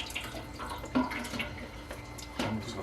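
Water washing through apple cider vinegar pulp, a steady close trickle and splash with a couple of sharper sloshing drips, no voices.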